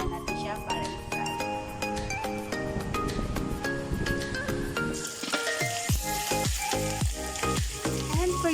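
Pork leg (pata) sizzling as it fries in oil, a steady close crackle, with clinks and stirring noises and some music or a voice underneath in the first half.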